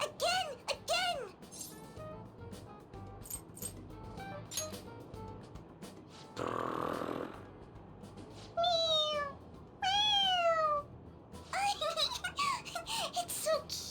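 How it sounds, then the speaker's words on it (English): Cat toy in the Persona 5 Royal video game meowing several times when pressed on its head, clear rising and falling meows in short bursts over game background sound and brief chatter, with a noisy burst in between. "It meows when you press on its head."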